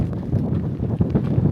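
Gusty wind buffets the microphone on a steep, windswept mountainside in Bolivia, a steady low rumble with uneven surges.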